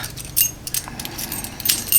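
A set of keys jangles and scrapes against a steel commercial-grade padlock as they are inserted, with metallic clinks and rattles close up and no talking.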